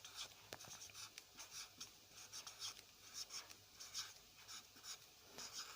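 Marker or chalk writing a large number on a board during a maths lesson on divisibility, a soft scratchy scraping in short repeated strokes, close and quiet, with no talk.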